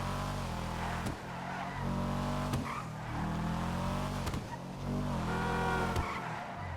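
Car driving uphill through the Hollywood Hills in Grand Theft Auto Online: a steady, loud engine drone with rising and falling revs, repeated tire squeals and skids, and a few sharp clunks, with no talking.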